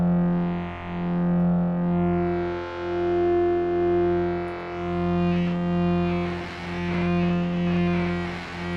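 A gnarly, heavily distorted synth preset from a free Newfangled Audio plugin plays as sustained buzzing notes in swelling, rhythmic pulses, turning grittier and noisier toward the end, with no talking.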